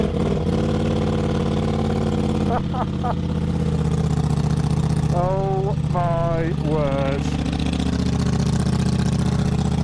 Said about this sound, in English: let's do a bit of a startup on this bike